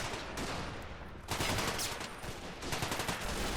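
Dense, rapid gunfire from German weapons in a World War I video game battle on the Tannenberg line, continuous overlapping bursts and cracks at mid distance, loud and relentless throughout.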